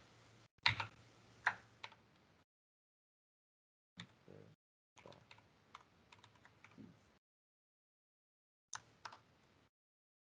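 Short bursts of quick clicky typing on a computer keyboard while code is written, separated by silent pauses, close and fairly quiet.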